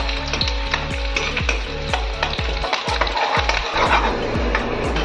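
Bay leaves, whole ginger and garlic frying in hot oil in a pan while cooking chicken, a steady loud sizzle with rhythmic knocking of a stirring spoon against the pan throughout.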